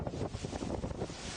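Gusty wind buffets the microphone in a steady, rough roar that swells and dips slightly, with no voices present.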